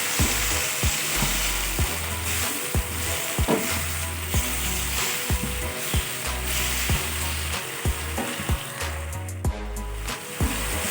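Water goes into a hot wok of stir-fried garlic chive flowers and quail eggs, bringing a loud, steady sizzle with scraping, knocking strokes of a spatula against the pan throughout.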